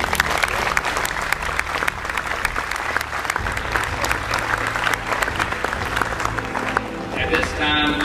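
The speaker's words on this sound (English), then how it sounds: "Give yourselves a hand." Audience applauding students at a high school ceremony, a sustained, loud wave of clapping from a large crowd that carries on for several seconds, with some voices mixed in.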